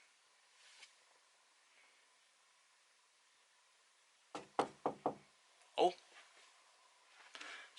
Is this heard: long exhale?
no